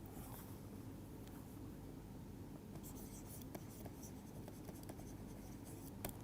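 Pen or chalk scratches by hand, writing out a thermodynamics equation during a lecture, with faint scraping and small taps under a steady hiss.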